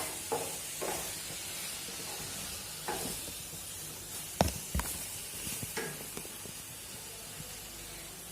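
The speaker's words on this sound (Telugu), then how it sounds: "ఇలా నెయ్యి వేసుకొని మొత్తం బాగా మిక్స్ చేసేసుకోండి." Maida flour is worked together with homemade ghee by hand, making quiet, scattered rubbing and soft scraping sounds against a faint hiss.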